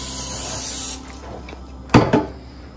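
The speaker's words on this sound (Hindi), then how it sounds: "इसको हम स्प्रे कर लेते हैं ऑयल से।" Cooking oil sprayed from a can onto a non-stick pan gives two short, sharp hissing bursts, close and loud, after a fading steady rush of background noise.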